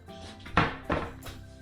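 A ceramic plate set out for an ice cube melting test on a defrosting tray, heard as two short clattering knocks of handling, fairly close, with a faint third touch afterward and no talk.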